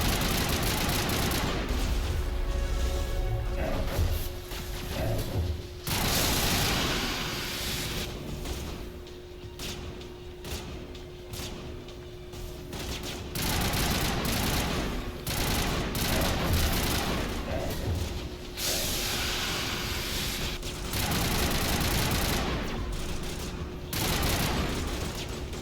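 Gunfire in Mass Effect: dense, continuous volleys of shots with booms, loud and sustained for the whole stretch, easing slightly in the middle before building again, with no talk.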